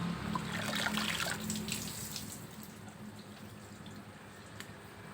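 Water drains and trickles from a freshly rinsed prayer rug set in a basket, a soft steady dribble that is fuller at first and then thins to faint drips.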